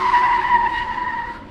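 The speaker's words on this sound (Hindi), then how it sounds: "उसने झटके से अपनी गाड़ी रोकी।" A car brakes suddenly, its tires skidding in one loud, sustained screech that fades slightly over about a second and a half, close and alone with no talking.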